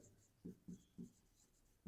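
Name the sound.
writing math on paper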